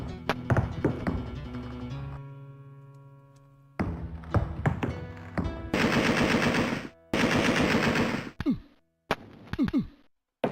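Automatic gunfire in the Alone in the Dark 2 video game: repeated loud bursts of rapid shots, each burst ending with a sharp decay, set between quieter game music and stabs of sound.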